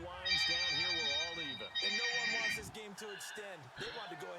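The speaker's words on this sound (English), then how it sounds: "Have a phone call here." A telephone rings in repeated electronic trills, two long bursts then shorter ones, loud and near, while someone talks over it throughout.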